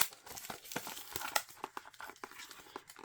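Crinkly plastic shrink wrap is pulled off an Atari 2600+ box, a continuous close crackling and tearing with sharper rustling bursts throughout.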